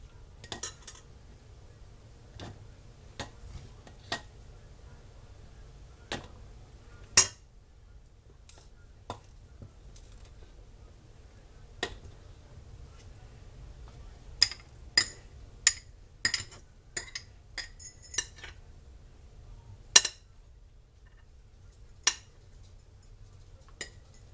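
Corned beef hash being packed firmly into glass canning jars: scattered metallic clinks and taps of a utensil against jars at irregular intervals, with a low steady background hum and no speech.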